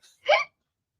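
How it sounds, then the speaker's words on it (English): A single short hiccup pops out close to the microphone, a quick voiced catch preceded by a faint breath, then silence. "Hiccup. I haven't hiccuped on the show in a while"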